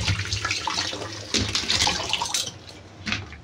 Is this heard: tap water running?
yes